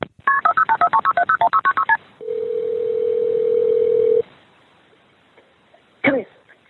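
Telephone keypad tones start a recorded 911 emergency call: a quick run of about a dozen evenly spaced dialing beeps, then a steady tone lasting around two seconds, followed by quiet and a brief ringing burst.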